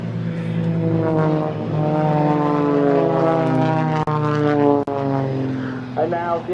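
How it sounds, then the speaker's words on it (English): Propeller aircraft of the Blades aerobatic team fly past, their droning engines rising and shifting in pitch close by, while a commentator talks over the display. "now, the aircraft will fan out in front of us and simultaneously pull up into the vertical"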